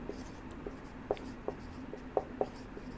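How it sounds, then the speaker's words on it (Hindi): Pen writing notes on paper during a class, a soft continuous scratch with a few sharper strokes and taps, close and quiet over a low steady room hum, with no talking. "तो अभी लिखते हैं,"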